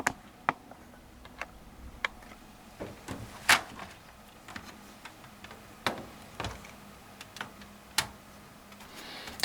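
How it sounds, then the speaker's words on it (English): A camera tripod being adjusted, giving off a scattered series of small sharp squeaks and ticks at irregular intervals over quiet room tone. "Let's zoom out first, and some squeaks from my tripod."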